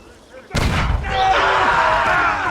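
Artillery fire from cannon units in Age of Empires during the 1450 Battle of Formigny campaign: a sudden loud blast, then a sustained rumbling barrage with battle noise close and full.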